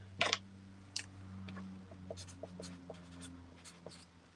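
A pen scratching on paper close up, quiet strokes and short ticks at an uneven rhythm, with a low steady hum underneath.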